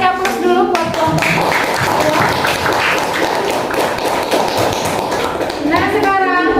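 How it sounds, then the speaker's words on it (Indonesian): A classroom of students applauds a student group after its presentation. The clapping is dense and steady throughout, with children's and adults' voices talking over it at the start and end. "Kasih aplaus dulu buat kelompok"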